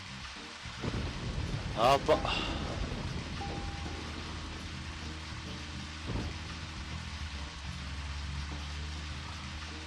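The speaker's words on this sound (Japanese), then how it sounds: "雷まで鳴ってるよ" A thunderclap cracks and rumbles in a rainstorm in the video game Deadly Premonition Origins, with steady rain hiss continuing beneath. A brief voice speaks early on, and a softer rumble follows later.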